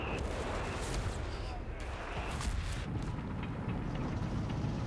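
Anti-tank guns fire in a Company of Heroes 3 match, a 2v2 battle with UK and German forces, with dull booms and bursts over a dense rumbling battlefield din, partly under commentary.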